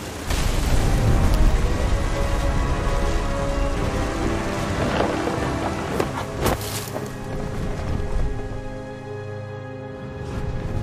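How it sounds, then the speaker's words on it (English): Steady heavy rain pours through a thunderstorm in the video game What Remains of Edith Finch, with a loud, close thunder crack near the middle over continuous rainfall. "The thunder sounded much too close and full of angry power"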